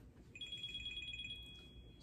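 A cell phone rings with an incoming call, a bright repeating electronic ringtone pulsing steadily for about a second over low room noise, then stopping.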